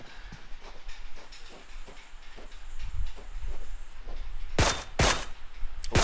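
Gunshots in a competitive shooter video game: a run of faint rapid shots early on, then several loud, sharp bursts near the end, close and cracking.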